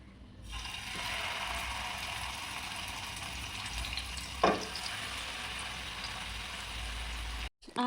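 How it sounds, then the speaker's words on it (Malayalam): Marinated chicken fries in sunflower oil in a home kitchen pan, a steady dense close sizzle throughout with a brief clatter midway and a knock at the end. "ഇനി അതിന് ശേഷം നമുക്ക് ചിക്കനൊക്കെ ഞാൻ പുരട്ടി വെച്ചിരിക്കുന്നതൊന്ന് ഫ്രൈ ചെയ്തെടുക്കാം"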